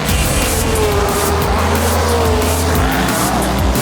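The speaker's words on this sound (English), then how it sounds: "The lights went off and so did the racers, their cars flying down the circuit." Race cars launch off the start line and speed down a circuit, engines roaring loudly with tire squeal and rising, overlapping whines as several cars pass close by.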